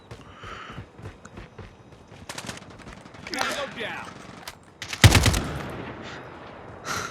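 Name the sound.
AK-47 gunfire in video game Call of Duty Mobile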